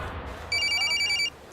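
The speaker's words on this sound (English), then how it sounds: "Oh, they call my phone again." A telephone rings in a short electronic pulsing burst, fairly close, set against low background noise on a Nigerian talk radio broadcast.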